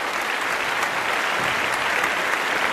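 Studio audience at a televised Chinese art appraisal show applauding to welcome three expert guests, a steady, dense wash of clapping that fills the whole stretch at even loudness, with no voices.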